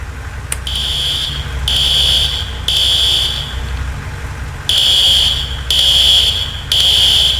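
A fire alarm sounds inside a building in the EmergeNYC firefighting video game, with loud repeating electronic buzzer blasts over a steady low rumble and a brief click near the start.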